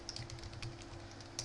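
Soft, rapid typing on a computer keyboard while a Python script is written. The light key clicks are quiet and close, sitting over a faint steady hum.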